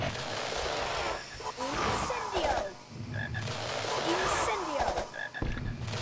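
A chocolate frog croaks in the Harry Potter and the Philosopher's Stone PC game, giving repeated throaty croaks over a busy game soundscape.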